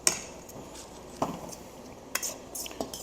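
A utensil stirs fresh pico de gallo into an avocado guacamole mix in a bowl, giving a few faint scattered clinks and scrapes spaced across the moment, with no talking.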